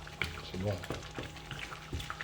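Peanut paste being stirred into frying chicken in a pan, a steady sizzle with scraping stir strokes, close and moderately loud, with a brief voice in the middle.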